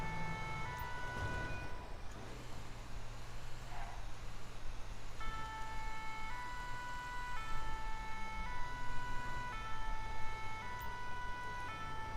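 Fire engine siren wailing in the GTA 5 video game, a steady electronic tone over low vehicle rumble, held at moderate distance across the whole stretch with no talk.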